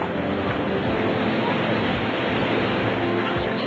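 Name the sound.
heavy rain pouring outside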